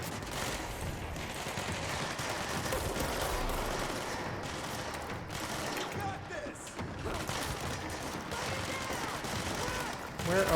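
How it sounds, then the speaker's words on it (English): Dense video game gunfire: steady bursts of shots and booming fire run through the whole stretch at a constant, fairly loud level, with a sharp burst near the end. "Where are they shooting at? Shooting at somebody up here?"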